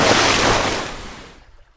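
Turbulent waves in the wake of a speeding motorboat hit a kayak in a loud, rushing wash of water and wind, steady for over a second and then quickly fading to silence, with no talking.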